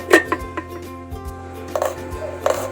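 A child slicing onion and small chilies for sisig, the knife tapping a board in a few sharp, irregular close cuts amid faint kitchen clatter.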